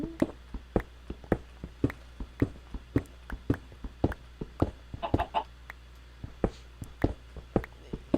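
Chicken clucking in a video game, repeated short, clipped clucks at a fairly steady pace over a constant low hum, with a brief cluster of busier calls in the middle.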